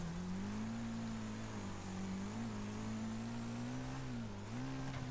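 Hammerhead RS race car engine in the racing game Wreckfest, a steady droning hum that rises and dips slightly with throttle, continuous and close throughout.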